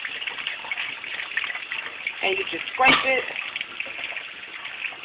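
Cold tap water runs steadily over a fish being cleaned and scraped along the backbone with a fork, a continuous close splashing stream with a brief louder gush, while a person talks over it.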